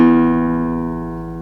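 Acoustic guitar open E string plucked once and left to ring, a close, full sustained tone that slowly fades.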